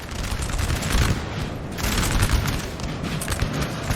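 Musket volleys roll without pause through a Napoleon Total War battle, a dense and loud crackle of massed line infantry fire with heavy booming underneath.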